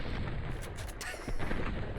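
A shotgun blast in Fallout New Vegas during a duel, heavy and booming with a dense low rumble throughout, swelling again near the end, with no talk over it.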